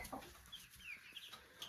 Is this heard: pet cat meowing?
no